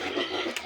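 Pigs grunting and oinking in their pen on a farm, a short, close, continuous burst of low snuffling grunts.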